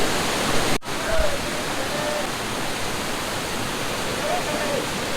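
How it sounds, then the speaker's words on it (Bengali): Steady broadband rush of Bamni Falls in Purulia, water pouring down from above into a pool where people bathe, continuous and fairly loud, with faint voices in the background. "দেখুন ওই ওপরটা থেকে জল পড়ছে।"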